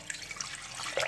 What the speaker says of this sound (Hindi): अब मैं इसमें 1 बाल्टी के करीब पानी शामिल कर दूंगी।